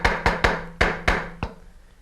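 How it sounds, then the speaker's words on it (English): A mallet strikes a chisel driven into the web area of a carved wooden ball-and-claw foot. Six sharp, close knocks come in an uneven rhythm over about a second and a half, followed by quiet. "I need my mallet. I drive my chisel right into the web area."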